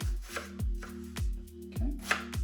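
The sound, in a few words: finely chopping an onion with a knife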